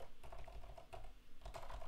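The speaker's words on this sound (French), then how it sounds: "j'ai mis des switch Kale Brown sur mon clavier" Steady, rapid typing on a computer keyboard fitted with Kailh Brown switches, close and clear, with soft irregular key clacks throughout and no voices.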